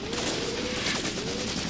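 Gunfire from the Graviteam Tactics: Mius Front war game, a dense, loud fusillade of overlapping shots and rumbling blasts that runs the whole moment without a break.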